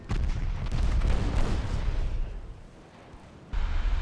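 Heavy naval gunfire from 7-inch guns in the Ultimate Admiral Dreadnoughts game, loud rumbling booms and blasts, dense at first and then fading into a quieter stretch before another burst.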